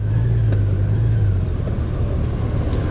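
Motorcycle riding on a road at lunchtime in traffic: a steady, loud engine drone with wind rumble, constant throughout and close to the rider.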